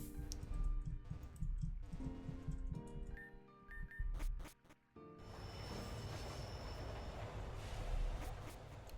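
Train ride in the Pokemon Rejuvenation video game: steady electronic rumbling rail motion with rhythmic clatter, a brief dropout midway, then continuous rolling noise without talk.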